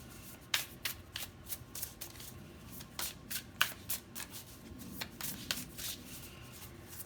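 A deck of tarot cards being shuffled over and over, with repeated crisp riffling bursts and soft slides at an uneven rhythm, close and fairly quiet, with no voices.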